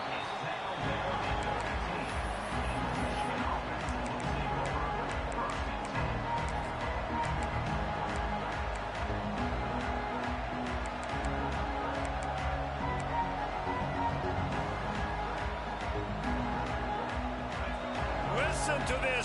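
A college football stadium crowd roars in a dense, continuous wash of noise that holds steady and loud, with a commentator talking over it throughout.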